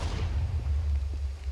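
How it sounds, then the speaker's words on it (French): A TNT explosion in a block-building video game gives a loud, deep booming rumble with heavy low-end energy that rolls on steadily for the whole stretch, with no voices present. "On vient d'entendre une explosion."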